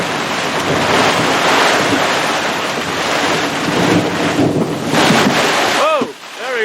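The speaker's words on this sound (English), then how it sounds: "The wind just pounded through." Strong wind roars through a sailboat on the Chesapeake Bay in a steady, buffeting rush, with waves splashing close by and a brief whistling warble near the end.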